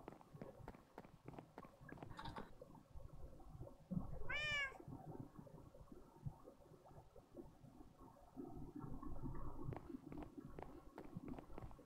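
A cat gives one clear, rising meow midway, amid soft footsteps and shuffling movement in a quiet indoor space.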